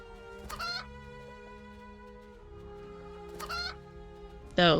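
Chickens cluck in short bursts in a witch-themed cabin-building video game, two clucking calls spaced apart and a louder squawk at the end over a quiet music bed.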